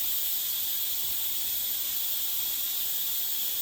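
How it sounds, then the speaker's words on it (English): A steady, loud hiss of steam rushes from the pressure-release vent of an Instant Pot pressure cooker holding pumpkin cheesecake, an unbroken broadband jet that holds level from start to finish with no voices over it. "we're gonna release the vent"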